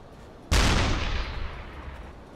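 A single loud boom from a U-boat deck gun firing at a ship in the game UBOAT, with a sharp blast followed by a long rumbling decay.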